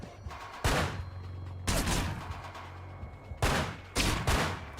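Bursts of gunfire in the video game Manhunt: four loud, broadband volleys of rapid shots separated by short pauses, with no talking.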